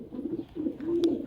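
Soft, low pigeon cooing among fancy pigeons and homer chicks, a few close murmuring coos with a brief sharper sound near the end.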